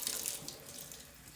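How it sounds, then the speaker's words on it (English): Water running steadily from a kitchen sink tap, a continuous hissing rush at moderate level with no voices. "Turn on your water."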